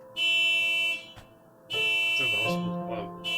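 An alarm buzzes in two long, steady bursts with a short gap between them, and a voice talks over the second burst.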